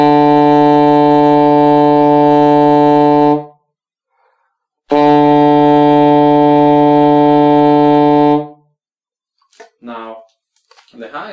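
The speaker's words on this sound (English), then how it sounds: "in order to play the B note, the lowest note, lowest B on the saxophone" Two long sustained low B notes on a saxophone, each about three to four seconds with a steady rich tone, separated by a pause, followed by faint brief voice sounds at the end.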